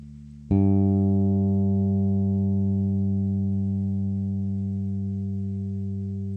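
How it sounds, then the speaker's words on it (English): The open G string of a bass guitar is plucked once, its low tone ringing on with long, smooth sustain and a gentle fade. "And now let's hear the G string, which is the bottom string."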